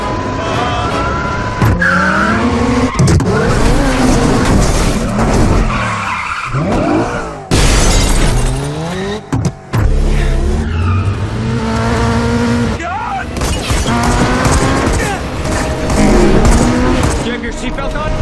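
Tires squeal and skid repeatedly as a car is thrown around in a Mission Impossible stunt chase, engine roaring loud and close throughout, with brief shouted voices and music mixed in.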